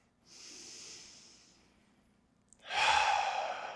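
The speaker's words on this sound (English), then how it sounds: "big belly breath" Two deep breaths during a relaxing yoga rest: a long soft airy inhale fading out, a short pause, then a louder, fuller exhale close to the microphone.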